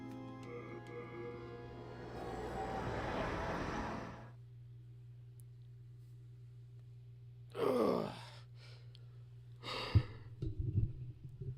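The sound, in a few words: yawning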